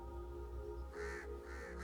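Crows give a pair of faint, drawn-out caws over a steady low hum, heard at a distance with no voices.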